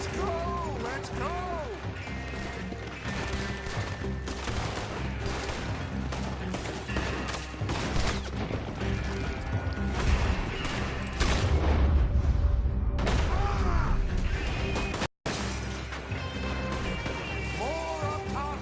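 Gunfire from a Red Dead Redemption 2 shootout, with repeated booming shots and crashes over dense battle noise and music, and voices shouting throughout.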